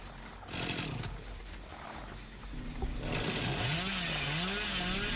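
A chainsaw revs with a rising and falling whine in the horror video game Dead by Daylight, loud and continuous over a dense background of game effects, with a brief voice nearby.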